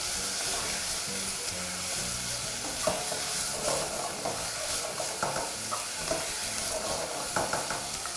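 Pork browning in a hot pan for a stir fry, with a steady close sizzle and hiss, broken by occasional light stirring clatters.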